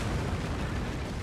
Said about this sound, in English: Want to get out of there before that explosion hits me.